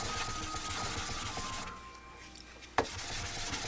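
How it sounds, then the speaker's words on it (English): Sandpaper rubs back and forth through the clear coat on motorcycle paintwork, a close, steady rasping that stops briefly before a sharp knock and then resumes. "I've got to sand through all the clear before I can get these off"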